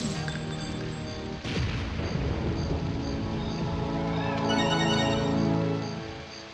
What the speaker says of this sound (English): But I can't not use the tri-rocket launcher.